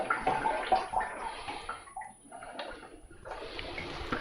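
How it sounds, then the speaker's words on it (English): Water pours into the top tank of a Lacidoll ultrasonic humidifier, a steady close splashing and trickling stream that briefly eases midway before resuming. "So you just pour water in the humidifier on top like this"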